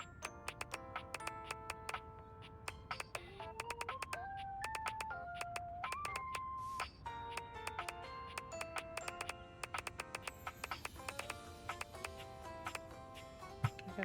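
Chiming electronic tones from the video game Dating Everything ring out in a dense run of short bell-like notes with a few sustained pitches, loud and alone with no talk.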